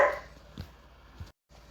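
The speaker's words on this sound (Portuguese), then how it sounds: "meu cachorro Snoopy achou de dar um de valentão, fica latindo aí" Snoopy the dog gives two short, sharp barks at a moderate distance indoors, spaced about half a second apart, over a quiet background with no talking.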